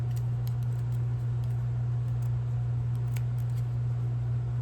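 Scissors snip repeatedly through paper, cutting out a leaf shape, with light crisp clicks scattered over a steady low electrical hum.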